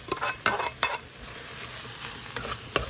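Saltfish being stirred back into a frying pan for a Jamaican saltfish, yam and dumplings meal: a soft continuous sizzle broken by several sharp scraping stirs, close and fairly quiet.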